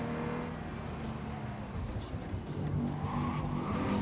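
A car in the video game Cyberpunk 2077 skids as its rear end slides out, a continuous tire squeal and roaring engine that swell louder toward the end, with no talking over it.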